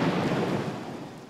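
Thunderstorm rain pouring in Las Tunas, Cuba, a dense, loud hiss with a low rumble of thunder that fades slightly over the short stretch, no voices.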